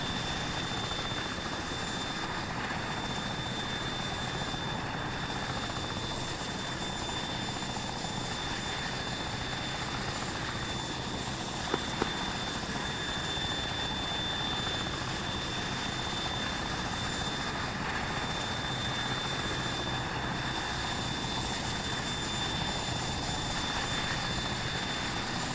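Steady aircraft engine drone in the military simulation game Arma 3, a continuous loud hum with a rotor-like texture held at constant level throughout while the aircraft climbs, with no talk.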